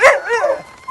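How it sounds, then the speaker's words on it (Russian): A dog gives a short yelping bark and then a whiny, rising yip, close and loud, in a single quick burst. "Это собаки Ларисы Володиной."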